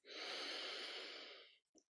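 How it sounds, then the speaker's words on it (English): One long, deep exhaled breath during a guided meditation, close and soft, followed by a brief quick intake. "just breathing 3 deep breaths"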